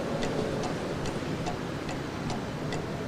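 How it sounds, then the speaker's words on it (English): A wall clock ticks in a quiet room in a Wong Kar-wai film, each soft, steady tick falling about every half second over a low, hushed background. "the clock ticking on the wall to emphasize the theme of time"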